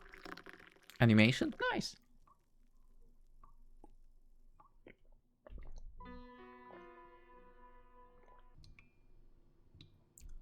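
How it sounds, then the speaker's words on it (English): Hot water is poured from a pot into a coffee dripper in a café game, a soft liquid trickle and splash against a quiet backdrop, with someone speaking briefly over it and a light musical chime following. "As he pours the hot water from the pot in the coffee dripper"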